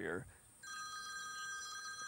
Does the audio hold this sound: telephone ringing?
yes